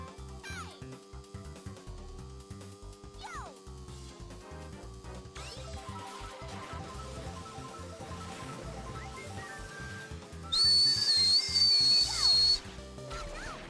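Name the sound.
person whistling the Mario Kart Double Dash tune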